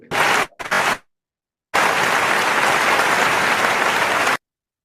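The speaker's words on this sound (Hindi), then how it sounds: "तो आप सब लोगों की वार्म वेलकम जोरदार तालियों के बीच मैं इनवाइट करना चाहूंगा" Audience welcomes a speaker with applause, first in two short bursts and then in a longer burst of steady clapping that stops abruptly.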